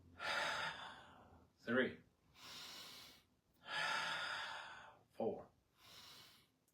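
Deep, audible inhales and exhales during breath work, alternating with short counted words spoken by a voice, several close breaths in a steady rhythm.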